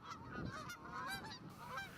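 Agitated male geese honk repeatedly and loudly at close range near a nest during goose egg addling, their overlapping harsh calls continuing without pause.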